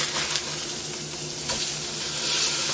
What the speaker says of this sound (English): time to flip over our salmon